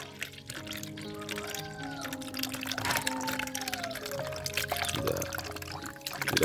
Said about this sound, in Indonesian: Ini akan saya tuangkan ya. Jadi ini memang sudah basi.